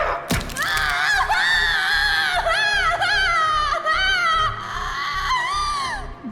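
A pegasus pony screams in pain, a shrill wavering wail held for several seconds over a steady run of dull low thumps, loud and close.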